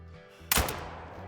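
A single shotgun blast of buckshot fired at a distant mountain hare while hunting in Scotland in a video game, booming sharply and then trailing off in a long fading echo, with no voices.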